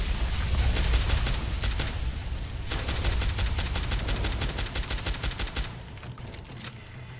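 Heavy weapons gunfire in Fallout New Vegas, loud sustained automatic bursts rattling rapidly in close succession, with a brief pause before a second long volley.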